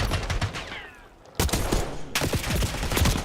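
Rapid pistol and gun fire crackles in a Call of Duty esports match, dense bursts of sharp shots with a brief lull before the firing resumes, loud and close.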